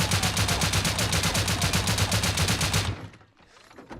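Rapid automatic gunfire in the survival game Rust, a long steady burst of closely spaced shots that cuts off abruptly near the end, followed by quieter background sound.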